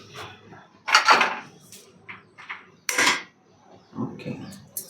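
A metal griddle pan is set down on a home kitchen stove for roti, heard as several separate clanks and scrapes of cookware, close and sharp, with quiet gaps between the knocks.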